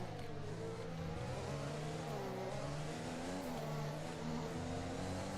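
Formula 1 race car engine in the game F1 2021, a high, whining note that rises and falls through gear changes, steady and fairly close, with no talking.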